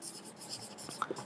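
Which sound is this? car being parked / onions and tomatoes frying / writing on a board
writing on a board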